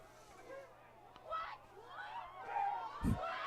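Crowd noise at a high school boys soccer bi-district match, a low murmuring hubbub of spectators that swells and fades, with a sharp thud near the end and people talking throughout.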